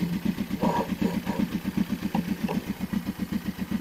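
A motorcycle engine idles close by on a slight slope, a steady, even putter of rapid pulses with no other sound over it.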